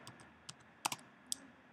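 Quick, light clicks of a computer keyboard while code is typed, a few scattered keystrokes with short bursts and pauses, close and fairly quiet with no talking.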